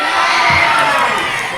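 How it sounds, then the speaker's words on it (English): A loud wrestling crowd chants and shouts in unison, a dense sustained roar of many voices filling the hall. "As the crowd chant chicken"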